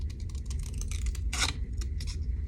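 Scissors snip through paper in a string of short, crisp cuts during a mixed media art journal session, with one longer, louder slice near the middle, heard close and clear without any talking.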